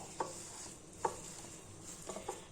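A spoon stirs milk into semolina batter for Moroccan harcha flatbread, soft close scraping against a bowl with a few distinct taps, the last ones coming in a quick cluster.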